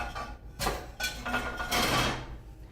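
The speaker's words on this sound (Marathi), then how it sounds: "तर सर्वप्रथम मी इथे एक पॅन घेते" A cooking pan is handled in a home kitchen while okra bhaji is prepared: several close metallic clatters and knocks over about three seconds, ending in a final set-down sound, with no one talking.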